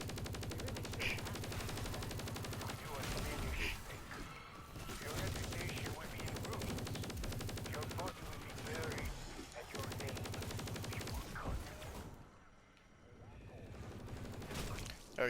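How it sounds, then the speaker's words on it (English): Gunfire in Black Ops Cold War Zombies while shooting orbs, rapid repeated bursts of automatic fire with dense overlapping game sounds, fairly loud throughout with a short lull near the end. "So you want to go ahead and shoot the orbs again."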